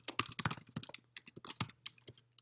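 Quick, uneven bursts of keystrokes on a computer keyboard while typing a print statement, close and crisp with short pauses between clusters of clicks, no voice.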